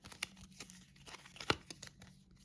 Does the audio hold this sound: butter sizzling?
no